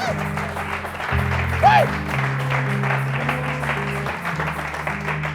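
A church congregation applauds during a French-language sermon, a sustained patter of clapping running through the whole stretch while a voice speaks over it.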